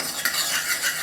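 A spoon stirring lemon juice into homemade food colouring in a small dish, giving a soft, continuous scraping and clinking with no voices.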